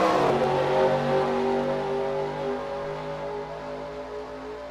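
A pack of stock race cars in a racing video game accelerates away at the green flag, engines rising together in a loud, layered roar that gradually fades slightly as the field pulls away.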